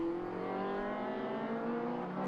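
Race cars passing on a circuit during an Irish championship race, engines droning loudly and steadily with a rising whine as they go by, no talk heard.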